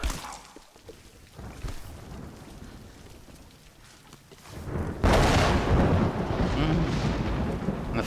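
Thunder rolls through a stormy scene in Tomb Raider Definitive Edition, starting as a low, distant rumble with rain and swelling into a loud, sustained crash over the last few seconds.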